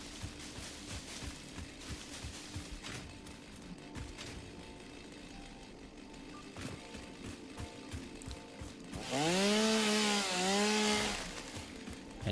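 A chainsaw in the video game Satisfactory cuts through foliage, with a busy crackling rumble building to a loud whining rev that rises and falls near the end.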